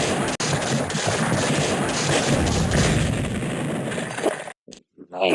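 Artillery fire in a Civil War strategy game, a dense, continuous roar of booming cannon and gunfire that fills the soundscape for several seconds before breaking off into a few short, separated blasts near the end.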